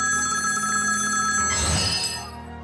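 A cellphone ringtone plays steadily for about two seconds, bright and sustained, before a louder rustling burst near the end as it fades out, with no voices over it.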